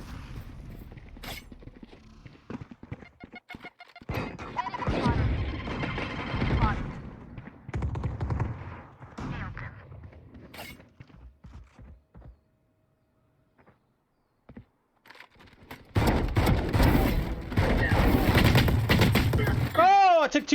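Rapid gunfire bursts from a fast-firing weapon in the Valorant shooter game, loud clustered shots in two main stretches separated by a quiet gap, with a player talking over the action.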